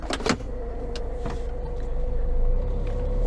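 A semi-truck pulls away and gets rolling, with a steady engine drone and a sustained tone that swell slightly as it gathers speed, heard from inside the cab, preceded by a couple of sharp clicks.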